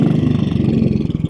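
A 1957 Royal Enfield Bullet 500 single-cylinder motorcycle in excellent condition, ridden with a loud, close, steady thumping engine beat at a constant pace.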